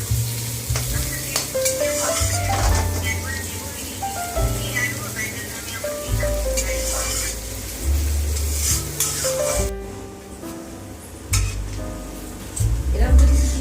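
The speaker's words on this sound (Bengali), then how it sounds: "পেঁয়াজটা বেশ লাল করে ভেজে দেবেন মিডিয়াম হিটে, যাতে পুড়ে না যায়" Onions fry in oil over medium heat, a steady loud sizzle close by with stirring scrapes throughout, while a voice talks over it.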